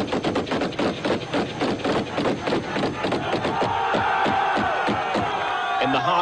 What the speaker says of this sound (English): Then masked gunmen fired a volley of shots over the coffins.